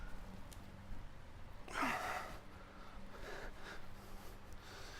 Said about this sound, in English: Big breath into my core each time.